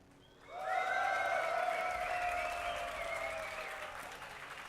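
Audience at a League of Legends match at DreamHack Summer 2012 breaks into loud, sustained applause and cheering that swells quickly, holds for several seconds, and begins to fade slightly toward the end.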